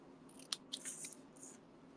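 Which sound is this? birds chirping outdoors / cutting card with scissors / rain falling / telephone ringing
cutting card with scissors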